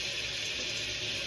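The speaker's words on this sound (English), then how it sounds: "Putting water on the towel." Steady running water, like a tap flowing, poured onto a kitchen towel to dampen it, a continuous close hiss with no breaks.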